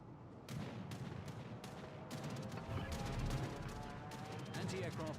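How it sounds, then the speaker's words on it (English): Anti-aircraft gunfire in a PlayStation video game, heard as bursts of rapid, overlapping shots and distant booms that repeat across the stretch at moderate loudness. "Anti-aircraft gun crews are on full alert."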